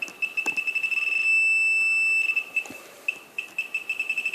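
A Fisher F5 metal detector sounds rapid, close electronic beeps in a pulsing rhythm that merges into one sustained tone for about a second and then breaks back into quick chirps.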